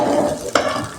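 A spoon stirs and mixes poha upma in a hot frying pan, scraping and rustling over a steady sizzle, with one sharper clatter midway.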